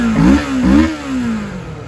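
A motorcycle engine revs hard twice toward high RPM, each rise climbing and dropping quickly before settling into a falling, fading idle, loud and close with no talk.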